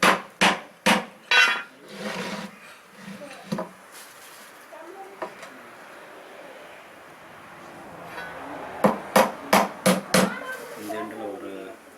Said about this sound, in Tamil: இந்த சைடு கட்டையை வந்து ஆணியை வந்து பாதியாக இறக்கிக்கணும்